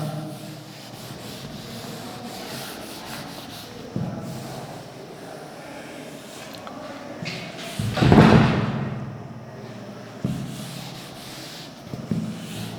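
An eraser rubs writing off a classroom board during a chemistry lesson, with a dry scrubbing texture, a few thumps, and a louder burst of rubbing midway.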